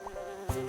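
A honeybee's wings buzz in a thin, steady hum, faint and very short, with a slight flutter near the end.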